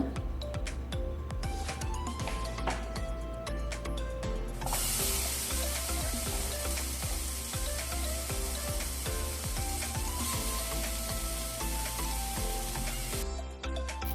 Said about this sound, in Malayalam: എല്ലാം കൂടി മിക്സ് ചെയ്ത് നമ്മൾ പൊടികളൊക്കെ ഒന്ന് മൂപ്പിച്ചെടുക്കുന്നുണ്ട്